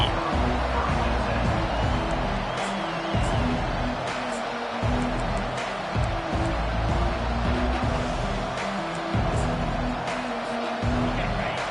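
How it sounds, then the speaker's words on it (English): A large college football stadium crowd at an Auburn game roars continuously, a dense wash of cheering and noise that stays loud and steady throughout. "This crowd trying to show them what it's going to be like all day in this house."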